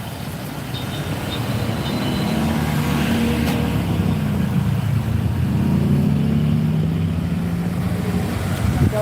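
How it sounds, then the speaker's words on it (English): A bus rumbles past on a city street, its engine drone swelling steadily and holding at a moderate distance with no talk. "And then there's the bus."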